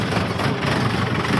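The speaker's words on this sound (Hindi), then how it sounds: "ट्रैक्टर को खड़ा करते हैं।" A tractor engine idles as it is parked, giving a steady, dense mechanical rumble with broadband clatter, close and continuous for the whole moment.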